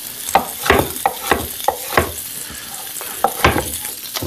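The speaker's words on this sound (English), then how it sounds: "while this is browning, we'll just put this in the pan here. You can see how nice it's browning" Onions browning in a frying pan are stirred, giving about eight crisp scraping, sizzling strokes in an uneven rhythm over a steady low sizzle, close and fairly loud, with no voices.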